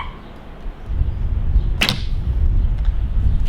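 A single shot from a Junxing F166 hunting recurve bow: a sharp swishing release close by, followed by low thumping rumble, no voices.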